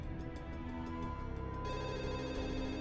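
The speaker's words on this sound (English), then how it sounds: "At 10:30, he phoned again." A telephone rings faintly under a dense, steady bed of music, with a pulsing repeated tone in the first half before the backing swells.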